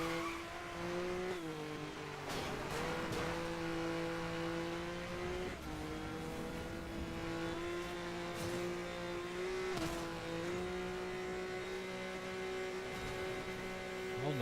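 Car engine bouncing steadily off the rev limiter in short gears in the racing game NFS Most Wanted 2012, a loud sustained buzzing drone with brief gear-shift dips, no talking.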